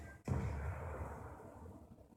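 One revolver shot fired in the Black Ops 2 Zombies video game hits with a sudden heavy boom, then a long rumbling decay trails off over two seconds, with no speech.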